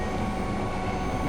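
A moving train rumbles steadily in the game Nobody Wants to Die, a loud continuous roar of wheels and carriage noise with faint squeal, no voices.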